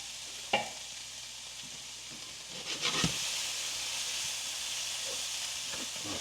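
Taco meat seasoned with McCormick Mexican taco truck seasoning cooks in a covered pan on an induction stove, giving a steady hiss and sizzle with a few clinks and stirring scrapes, and no talking.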